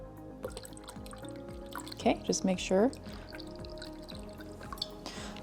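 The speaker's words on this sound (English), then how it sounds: "we're gonna go ahead and put the distilled water in it" Distilled water is poured into the tank of a Hydra Deluxe unit, making a short burst of trickling and splashing near the middle, with a person talking over it.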